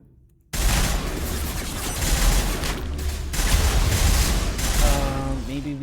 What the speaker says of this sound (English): this time, by shooting the barriers